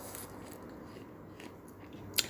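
Someone bites into a quince close to the mic, giving a quiet crisp crunch and a sharper snap at the end against near silence.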